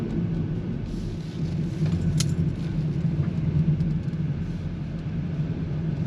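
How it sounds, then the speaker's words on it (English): A 2025 VW Jetta SEL makes a U-turn in a cul-de-sac in sport mode, its engine a low, steady rumble heard from inside the cabin with a little road noise and no talking. "And then I'm gonna do a U-turn in this cul-de-sac here."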